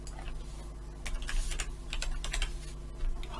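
Brisk typing on a computer keyboard, a cluster of crisp close key clicks in an irregular burst over a low steady background hum.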